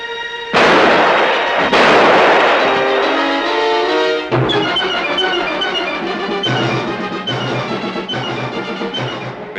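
Gunfire in a 1949 war film scene, loud heavy shots ringing out followed by rapid repeated bursts continuing steadily.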